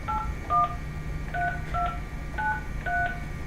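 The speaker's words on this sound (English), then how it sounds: "we have to dial 9 first. And then the number that you'll see at the top here." Telephone keypad dialing tones, a 9 followed by a phone number: six short, clean dual-tone beeps spaced at a steady, unhurried pace, moderately loud over a faint steady hum.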